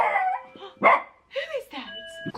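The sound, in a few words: dog barking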